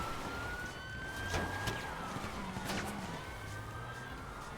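Police car sirens wailing in the GTA 5 Online video game, several rising and falling tones overlapping over a steady engine and road rumble, moderately loud and continuous.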